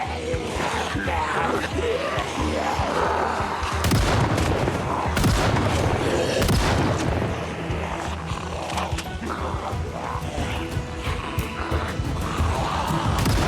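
Dense, continuous gunfire and booming blasts fill Project Zomboid combat against sprinting zombies, loud and chaotic throughout with rapid overlapping shots.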